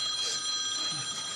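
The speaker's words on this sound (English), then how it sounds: "That phone just rang and rang and rang and rang." Telephone ringing continuously, a bright sustained electronic bell tone filling the short stretch, fairly loud and steady, as police negotiators call in.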